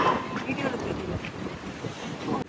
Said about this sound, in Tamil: அடுத்த செகண்ட் காணாம பயங்கர காத்து